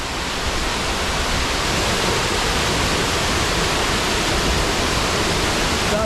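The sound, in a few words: water rushing over a spillway on a Norwegian hike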